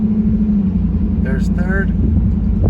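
A 2002 Pontiac Trans Am convertible with automatic transmission pulls away, its engine holding a steady low drone throughout while a voice briefly speaks over it.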